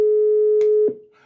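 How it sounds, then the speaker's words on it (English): Telephone call tone on a live phone-in show: a steady, loud electronic ring tone holds for nearly a second, broken by a couple of clicks, then cuts off as the line connects. "Phone! Somebody's calling."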